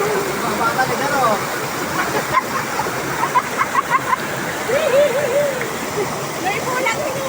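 Water splashing and pouring steadily as someone bathes using a makeshift setup, a continuous close stream with voices talking over it.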